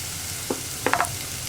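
Chopped carrot, onion and cabbage for vegetable momos tossed into a hot pan, giving a steady sizzle with a few short clattering scrapes as they land and are stirred.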